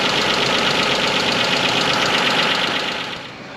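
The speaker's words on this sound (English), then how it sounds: "Alright, it's running. Got a little bit of valve noise." Isuzu 3.2 V6 engine with about 160,000 miles idling with rapid valve ticking over a steady mid-pitched run, loud and close, easing quieter at the end.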